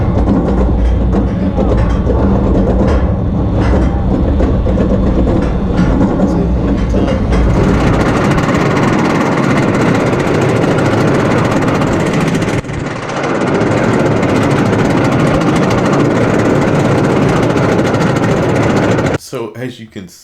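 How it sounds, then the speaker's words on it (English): Roller coaster chain lifts on Anaconda and Twisted Timbers, loud and continuous with rapid mechanical clattering and rumbling, one lift giving way to the other partway through, ending with a brief change at the very end. "we'll go ahead and do a comparison video right now between Anaconda's chain lift and Twisted"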